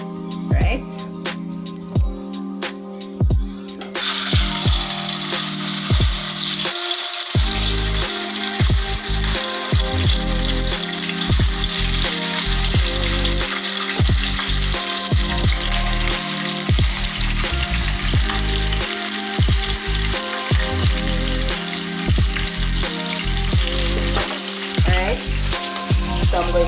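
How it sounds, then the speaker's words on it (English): Chicken pieces browning in a pan ahead of baking for Jamaican baked chicken, a steady, close, loud sizzle and crackle with light clinks of turning, continuous throughout. "I'm going to get started in frying my chicken before I put it in the oven"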